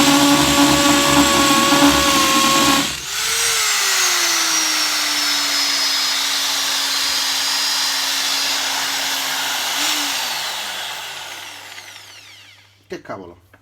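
A Parkside PSBM 750 percussion drill bores into a concrete brick, a loud whining grind that cuts out and spins down, then a few short knocks at the end.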